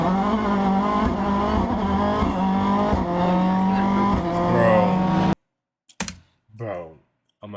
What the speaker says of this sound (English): he gave me that sub 2 second 0 to 60 launch I was looking for